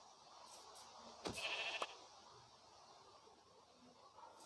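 A single sheep bleats in the blocky survival game Craftsman, a short burst rising briefly over a soft, steady background hiss, heard alone with no talking.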